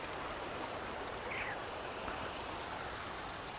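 A flowing stream rushes in a constant, even, moderately loud wash of noise, with no voices or other distinct sounds over it.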